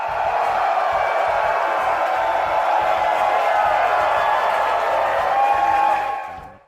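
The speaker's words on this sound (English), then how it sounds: "check out this video real quick of like everybody, like the huge crowd that we got for the panel" Large crowd at a New York Comic-Con panel making a dense, sustained roar of cheering and voices, loud and steady before fading out at the end.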